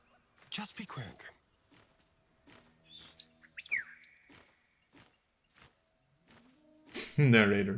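Bird chirping in Baldur's Gate 3, a few short separate tweets with a brief whistled call in the middle and a louder burst near the end, all set against quiet game ambience.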